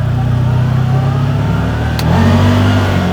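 A CFMOTO ZFORCE 950 Sport four-seat side-by-side engine idling and revving steadily up close, loud and continuous, with a brief shift in tone partway through as the drive mode changes from normal to work.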